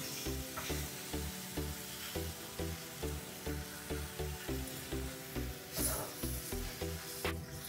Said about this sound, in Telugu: ఇంకా కొంచెం కారం వేసేసి కొంచెం అటు ఇటు తిప్పేసి దింపడమే.